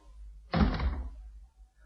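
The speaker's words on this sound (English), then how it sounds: "Go out and close the door." A single door pulled shut with a solid, moderately loud thunk that fades out over about a second, with no voices.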